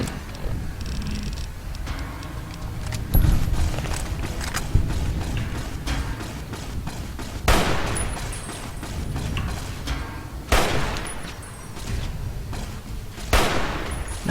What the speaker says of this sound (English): Oh wait, I actually have a sniper rifle.